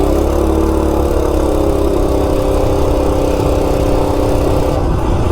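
A Coleman RSV minibike engine roars loudly and steadily up close, its rough buzzing drone holding high throughout as it runs hard under acceleration, with no voices.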